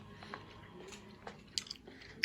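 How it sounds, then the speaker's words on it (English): Close, quiet chewing of Tootsie Roll candies, with soft sticky mouth sounds and a few sharp little clicks and smacks near the end. "I'm chewing on those Tootsie Rolls"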